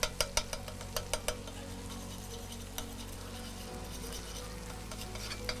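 Garlic frying in a pan of hot oil, a steady soft sizzle beneath a few sharp clicks of a utensil stirring near the start, close and moderately quiet, with no one speaking.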